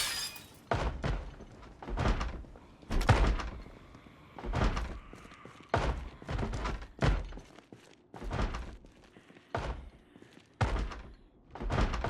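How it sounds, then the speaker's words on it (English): A front door bangs over and over in the Project Zomboid zombie survival game, with heavy, loud thuds that come in uneven bursts and clusters, separated by short quiet gaps. "The front door is banging."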